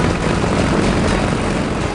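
An SBD dive bomber's propeller engine roars at full power as the aircraft takes off from an aircraft carrier, a loud, steady, broadband drone that fills the whole stretch without a break.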